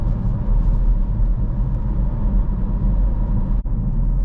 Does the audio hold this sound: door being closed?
no